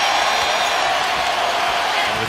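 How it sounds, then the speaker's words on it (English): An arena crowd at a 2012 Team USA versus Brazil basketball game cheers as Derrick Rose checks in. The steady, loud roar of voices fills the whole stretch. "And that cheer you hear"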